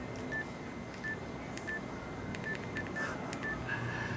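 Cell phone keypad tones beep in a quick irregular series of short, faint presses over a low background hiss, as numbers are punched in for a calculation.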